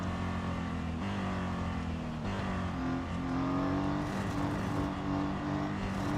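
The engine of a BMW M Hybrid V8 race car in a racing video game drones loud and continuous, shifting pitch as it accelerates and eases off for braking, with no talk.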